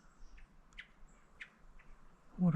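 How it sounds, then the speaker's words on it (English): Outdoors on public land during an early-season squirrel hunt, an unidentified bird gives several short, faint chirps spaced through the moment, with a brief louder rustle at the end. "What kind of bird that is? It's pretty."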